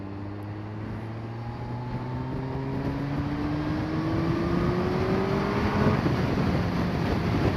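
Kawasaki ZZR 1400 motorcycle accelerating at night, a rising engine whine climbing steadily in pitch as it pulls away, heard over constant rushing wind noise at moderate distance.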